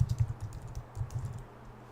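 A quick flurry of computer keyboard keystrokes typing a search, soft close clicks in an uneven rhythm lasting under two seconds, with no talking.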